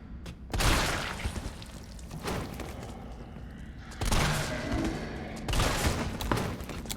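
Shotgun blasts in the survival horror game Resident Evil 3 boom out in a few heavy bursts, each leaving a rumbling tail, with a louder pair near the end over a dense game background.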